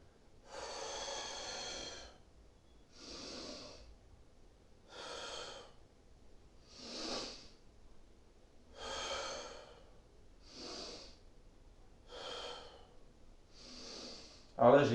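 Eight slow, exaggerated Pilates breaths in and out, each a loud airy rush lasting about a second, evenly spaced with quiet pauses between, close to the microphone and without talk.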